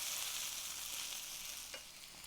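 Green beans fry in a pan on medium heat, a steady broadband sizzle that holds throughout with a slight dip near the end, close and fairly quiet with no voices.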